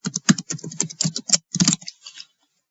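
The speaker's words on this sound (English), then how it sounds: "Type the password for that specific user again" Rapid keystrokes as a password is entered on a computer keyboard, a close, crisp run of clicks in an uneven rhythm that stops abruptly after about two seconds.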